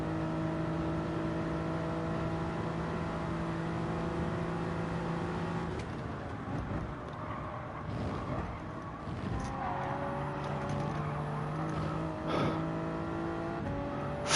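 Race car engine in Gran Turismo 7 during a Manufacturers Cup race at Daytona, holding a steady drone with shifting pitch under light game noise, with occasional gear changes and louder bursts.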